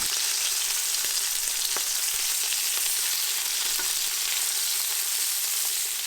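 Lamb chops sear steadily in a hot pan, a dense continuous sizzle and crackle with scattered louder pops, close and even throughout, with no talking.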